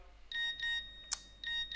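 A phone rings faintly during a hotline session, a series of short repeated electronic tone bursts in a steady pattern with a quick click between them.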